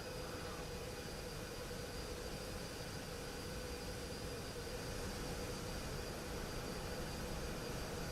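A 737 MAX 8 airliner in a flight simulator comes in to land with a steady, fairly faint engine and airflow roar that holds without a break and has no clear touchdown thump.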